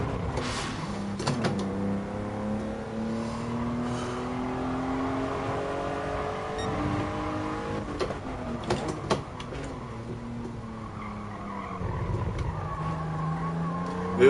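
Tire screech from cars in the racing game GT Sport, heard as wavering squeals that rise and fall in pitch over steady engine noise, recurring several times across the stretch with no talking.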